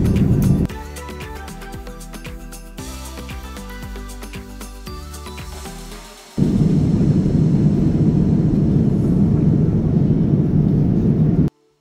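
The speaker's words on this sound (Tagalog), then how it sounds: "At dahil malapit na tayong lumapag dito sa Korea" Steady, loud broadband roar of an airliner cabin in flight on approach to landing in Korea, starting behind some music and then swelling into a continuous deep rumble.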